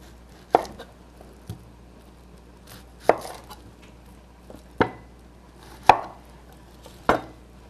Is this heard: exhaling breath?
no